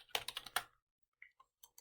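Keys tapped on a computer keyboard: a quick burst of clicky strokes up close, a short pause, then a few scattered lighter taps, no talking.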